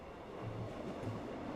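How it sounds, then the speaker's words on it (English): A subway train rumbles into an underground station in the Steins;Gate video game, a steady low rolling rumble with faint rail clatter, quiet and continuous with no voices. "I can hear the rumbling and see the lights at the end of the tunnel."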